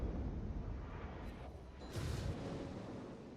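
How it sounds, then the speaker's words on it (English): Torpedo hits striking a warship in a naval battle game, a continuous rumbling low boom with a brighter burst near the middle, moderately loud and without speech. "Did not turn out of those torpedoes, a bit unfortunate"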